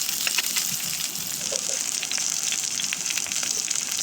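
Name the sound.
frying onion, green chillies, garlic and dals in a pan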